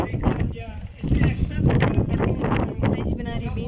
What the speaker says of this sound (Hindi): हवा भी खूब चल रही है